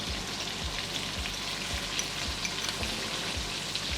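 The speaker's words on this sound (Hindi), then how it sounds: "तेल गर्म होने पर मेथी डालेंगे" Fenugreek seeds sizzling in hot oil for a spicy Bihari fish curry, a steady dense crackling hiss that fills the whole moment, close and even, with faint periodic low thumps beneath.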